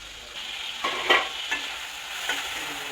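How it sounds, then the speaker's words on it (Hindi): Tomatoes frying in oil in a pan over a low gas flame, a soft steady sizzle broken by several gentle stirring scrapes, close and without voices. "गैस फ्लेम को लो करवा और टमाटो को तेल रे फ्राए करा"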